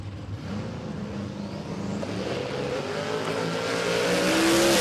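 Two drag cars launching down the strip at Willowbank Raceway, an Oldsmobile Cutlass and a Chevrolet Monza, build from a rumble to a loud rising, screaming roar as they accelerate, with no voices over the engines.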